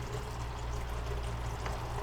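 Clear water poured into a container, a steady continuous stream with a full, constant flow from start to finish, close and fairly loud, no talking.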